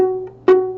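A single plucked violin F sharp on the D string rings steadily, then a second pluck of the same pitch sounds, both short and clear with no other sound.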